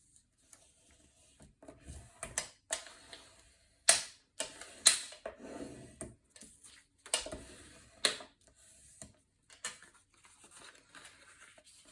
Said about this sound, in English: I'm going to fold over and burnish on that score line